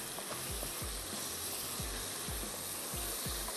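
Chicken and vegetable stir fry sizzles steadily in a hot pan, a dense continuous frying hiss with periodic low scraping thumps of stirring, no talking.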